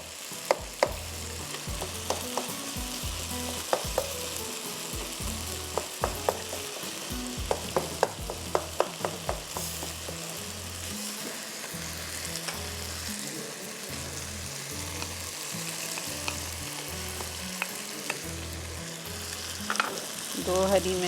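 Ghee frying and sizzling in a karahi on the stove, a continuous hiss with frequent clinks and scrapes from stirring, heard close up without talk.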